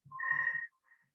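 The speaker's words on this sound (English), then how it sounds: "Sorry, the phone's ringing there." A telephone rings indoors with one sustained electronic trill burst, followed by a fainter shorter chirp, loud and alone, in a quiet room.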